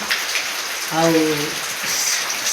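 Heavy rain falls in a rural Odia village, a steady loud hiss of drops on surfaces throughout, with a brief tonal sound rising over the downpour midway.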